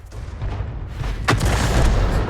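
A Super Hellcat tank destroyer's gun firing in a video game, a single deep boom with a sharp crack that leaves a low rumbling tail over a steady engine hum.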